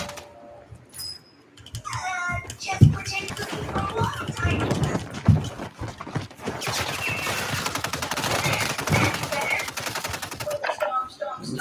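Gunfire in a shooting video game: dense bursts of rapid machine-gun-style shots that run almost continuously, loud and close, with voices mixed faintly underneath.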